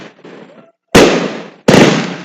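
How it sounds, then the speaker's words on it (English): Fireworks bursting on the Fourth of July, with two loud, sharp booms about a second apart, each decaying with a long crackling tail, following a softer stretch of distant rumble. "George the dog is like enthralled by the fireworks, not scared at all"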